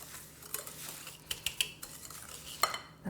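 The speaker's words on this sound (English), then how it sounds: "So we've got sugar, vegetable oil, and vanilla extract. We'll mix these together real quick." A spoon clinks and scrapes around a bowl while sugar, vegetable oil and vanilla extract are stirred together for brownie batter, a few sharp taps standing out over a soft, close mixing sound.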